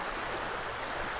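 A small New Zealand creek rushes steadily, a close, even hiss of flowing water with no breaks.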